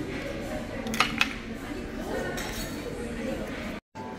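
Drinking glasses clink together twice in a quick toast between a couple in a Seoul hotel, two bright chimes near the start over murmured talk and room noise.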